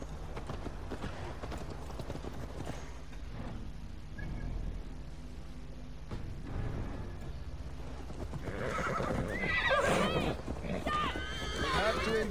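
A horse whinnies and its hooves clop over a busy game soundscape in Assassin's Creed Valhalla, with people talking throughout, and the neighing rises louder toward the end.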